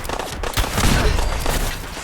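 Gunfire from the Reaper of Pantheon weapon in Fallout 4 (modded), a loud dense burst of booming shots blending into a sustained roar over about two seconds.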